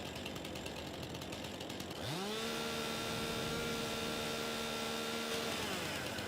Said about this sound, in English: Lumberjack mod, that allows you to grind the stump with the chainsaw.